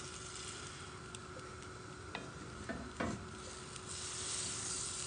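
A toastie fries in butter in a pan, giving a steady close sizzle with a few faint clicks and taps, and no voices.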